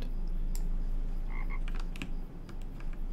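A frog croaks in the online game Lord of the Rings Online, a few short throaty calls over a steady, noisy ambient bed with scattered faint clicks.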